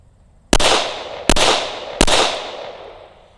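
Three loud handgun shots crack out at a shooting range, each a sharp blast with a long ringing decay, spaced under a second apart with no talking.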